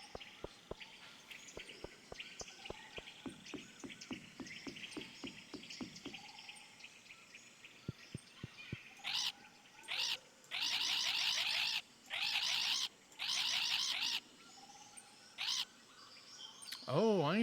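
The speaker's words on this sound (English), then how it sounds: "Keep talking, bird" Chirping birds in the game Stardew Valley: a series of quick tapping clicks, then several bright, loud bursts of twittering trills, close and clear, with no talk.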